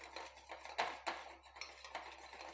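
A spoon stirs a thick homemade skin paste in a bowl, giving quiet scraping strokes and a few light clinks against the sides, faint and close with no talking.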